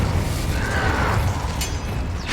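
Incendio fire spell cast in the Hogwarts Legacy video game, a whooshing burst with mechanical crackle and a sharp pop at the end over steady low rumbling combat ambience.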